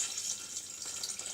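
Water pours steadily into a soup kettle while a ham and lentil soup is being made, a soft continuous splashing stream heard up close with no talk.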